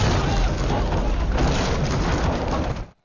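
A bomb hidden in a street cart blows up in an Indian action film, a heavy rumbling blast with a thick low boom that rolls for nearly three seconds before cutting off abruptly.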